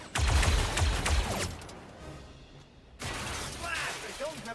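Gunfire in Star Wars Zero Company: a cluster of sharp blaster shots up front, a quieter lull, then more clattering shots and mechanical sounds, moderately loud, with some talk.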